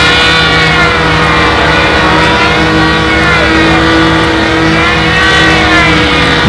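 Pylon race model aircraft at a windy 2002 Nationals meet, their high-pitched engines whining loudly and continuously as they sweep by, pitch sliding up and down with each pass.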